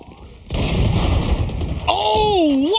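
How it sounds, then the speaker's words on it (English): A heavy gunshot from Sugetsu's weapon in a professional Valorant match, Acend versus FunPlus Phoenix, hits as a loud, dense burst over crowd and game noise. A rising and falling synthetic tone follows, and a caster talks through it. "Oh, what was that shot out of Sugetsu?"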